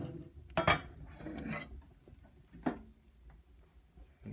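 A metal lid set back onto a Tempwood II wood stove, giving a close, sharp clank with a short rattling scrape, then a second lighter clink a moment later.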